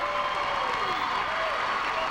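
Home crowd at a 1999 high school boys' basketball game in Illinois claps and cheers, a dense continuous wash of applause with a commentator's voice faintly beneath.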